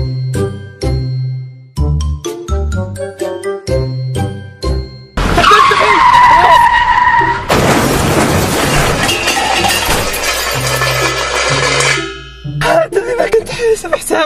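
A car drives and skids on a road, tires screeching in a long squeal followed by crunching, rattling impact noise with tinkling glass, all loud and close, with scattered knocks beforehand.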